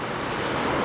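Waves roll onto the beach at Enoshima, Japan, where surfers paddle out, producing a steady, loud wash of surf that fills the whole moment with no break and nobody speaking.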